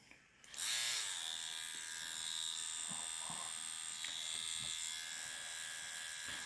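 A Yilong F3 adjustable-stroke tattoo pen machine starts up and runs with a steady, high, close electric buzz that holds nearly constant throughout, with a few faint handling ticks.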